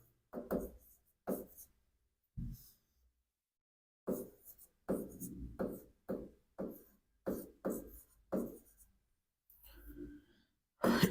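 Chalk or marker strokes on a board during a chemistry lecture on Le Chatelier's principle, in bursts of short scratchy taps and lines separated by pauses, close and clear with no speech.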